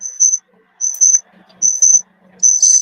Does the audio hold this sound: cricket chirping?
yes